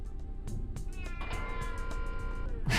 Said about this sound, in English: Shut the cat up